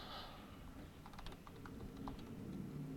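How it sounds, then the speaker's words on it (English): Two people typing on computer keyboards, quiet clusters of light key clicks scattered over a soft background hum, fairly faint and with no talk. "They're both typing."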